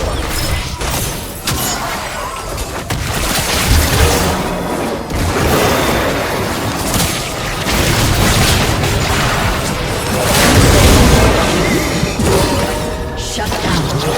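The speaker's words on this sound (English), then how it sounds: "Red team's turret has been destroyed." A turret being destroyed in a League of Legends match, set amid dense, loud game audio with layered booms, crashes and impacts rolling continuously, and a brief voice mixed in.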